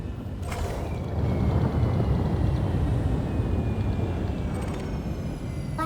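A collector limpet drone launches from a mining ship in the space game Elite: Dangerous, heard over a low, steady engine rumble, with brief bright mechanical bursts near the start and again near the end.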